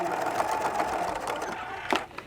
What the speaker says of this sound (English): So now I'm going to sew the box corners. And back stitch.